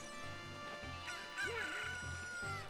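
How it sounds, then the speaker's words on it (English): A chicken in Zelda: Ocarina of Time clucks with a rising, bending squawk in the middle, over a steady background of game music. "this is a chicken"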